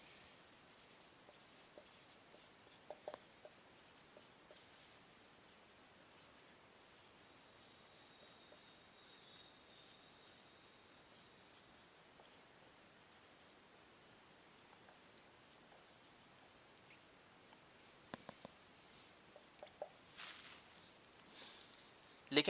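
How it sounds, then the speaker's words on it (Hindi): Chalk or marker writing on a board during a physics lesson on reflection of light, faint scattered scratches and taps in short bursts across a quiet room, soft and distant with no speech. "तो यहां पे लिखेंगे"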